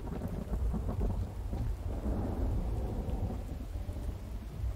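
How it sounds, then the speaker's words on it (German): A thunderstorm in the video game The Infected: steady heavy rain with rolling thunder rumbling underneath, continuous and fairly loud throughout, with no talking. "Und dass es hier ständig gewittern muss."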